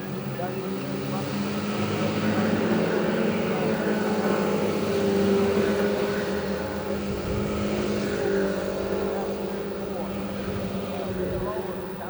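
Speedway race cars circle Ashburton Speedway, a steady rumbling engine drone with shifting revs heard from a distance under a commentator's continuous talk.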